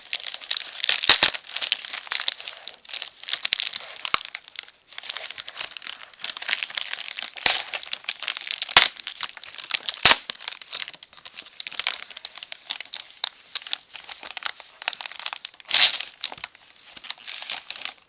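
Bubble wrap around an HP toner cartridge for a Pro 400 M451dn color laser printer being torn open by hand along its perforation: continuous close crinkling and crackling with sharp tearing snaps scattered throughout, and no voices.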